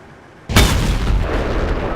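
A tank cannon fires in World of Tanks with a sudden heavy boom, a single loud blast out of near quiet that rolls on into a sustained low rumble and echo.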